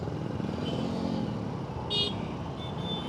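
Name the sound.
Honda Activa scooter engine straining uphill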